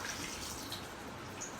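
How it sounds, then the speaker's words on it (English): Tap water rushes steadily over hands to rinse off soap, a close, continuous hissing flow. "You just let the rushing water or the flowing water, the running water to flow in your hands to remove all the soap"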